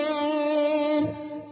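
A single electric guitar note on the fourth string at the twelfth fret rings with wavering vibrato, clear and sustained, before fading out.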